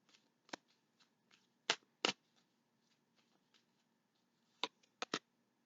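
Tarot cards drawn one at a time from a deck: soft slaps and flicks with two sharp card snaps near the start and a quick cluster of three near the end, close and alone over quiet room tone.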